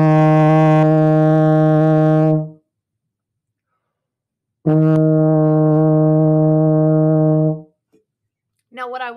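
Euphonium sounding a sustained E flat, held for about two and a half seconds, then played again after a pause as a longer steady tone. A short burst of speech follows at the end.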